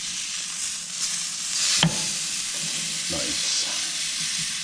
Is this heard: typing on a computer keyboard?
no